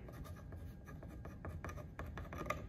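A permanent marker writes on truss wood, its felt tip squeaking and scratching in short quick strokes, close and fairly quiet, with no talking.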